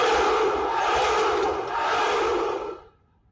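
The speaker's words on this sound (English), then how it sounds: "Delighted by this reply, the followers of Romulus let out a great cheer." A large crowd of followers lets out a great roaring cheer, loud and echoing, holding steady for over two seconds before fading quickly to silence.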